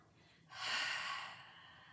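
A single audible inhale during a Pilates mat exercise, a soft airy breath that swells in about halfway through and holds steady before easing off, close and quiet with no talk.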